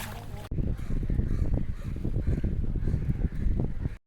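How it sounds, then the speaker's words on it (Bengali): Kayak paddling on the water at Cabo de Rama beach in Goa: a steady, close wash of water and rushing wind noise that runs on without a break, with faint rhythmic pulses through it. "তো আমরা এখন দুজনে এখন কায়াকিং করব।"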